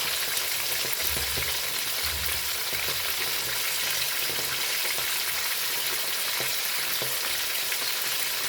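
Onion fries in a pan with a constant loud sizzle and occasional stirring scrapes, close by and without speech.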